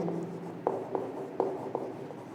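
Marker or chalk strokes on a classroom board, steady scratchy writing with several distinct taps and strokes in quick succession, fairly close, no talk.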